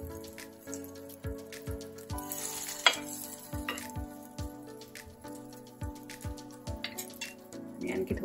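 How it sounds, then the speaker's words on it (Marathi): Masoor dal and vegetable tikkis shallow-fry in a pan over low heat, giving a soft continuous sizzle broken by a regular series of sharp, close crackles and pops, plus a brief louder spatter partway through. "मंद गॅसवरती आपल्याला हे भाजून द्यायचे."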